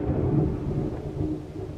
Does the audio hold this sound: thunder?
yes